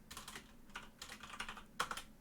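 Quiet, steady typing on a computer keyboard, a run of close, light key clicks with short pauses and one sharper tap near the end.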